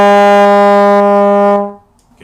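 A trombone sustains a steady, bright E flat in third position for about a second and a half, loud and close, then fades out.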